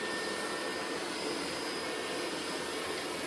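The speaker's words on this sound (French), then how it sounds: "il vient d'arriver sur le tapis, donc là il augmente sa puissance de succion" A Dreame L40 Ultra robot vacuum runs on carpet at raised suction, giving a steady loud broadband whoosh and hum with no pauses.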